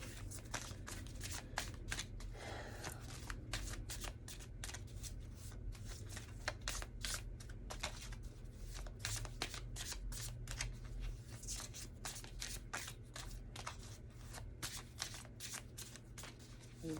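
Tarot cards riffled and shuffled by hand in repeated crisp bursts of flicking and slapping, close and steady throughout, with no talking.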